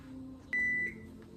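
A kitchen oven timer gives one steady electronic beep of about a third of a second, clear and fairly loud above a low room hum, with no talking.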